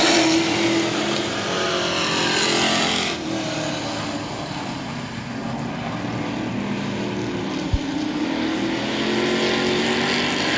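Texas dirt trucks racing at the I-37 Speedway at the green flag start, a loud dense roar of many engines that holds steady for several seconds, with one sharp knock late on.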